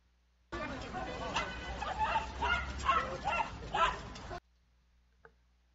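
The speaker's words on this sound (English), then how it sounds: "You guys ever seen a fucking monkey riding a bike chased by a dog?" A dog barks in quick, loud yips while chasing a monkey riding a bike. The barking comes in a short burst of several rapid barks with some chatter mixed in, then cuts off abruptly into near silence.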